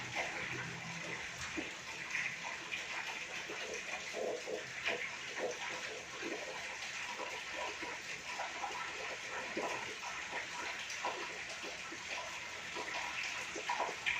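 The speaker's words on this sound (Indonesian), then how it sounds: "kita cuci tangan dengan 6 langkah" Steady running water from a tap as hands are washed under it, a continuous hissing splash with small irregular splatters, fairly close and unbroken by speech.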